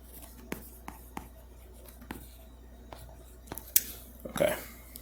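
Writing on a board during a math lecture produces a series of sharp taps and scratchy strokes, irregularly spaced and fairly close, that end with a longer scraping stroke.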